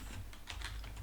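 Quick bursts of keystrokes on a computer keyboard, a close, light clatter of several taps over a low steady room hum.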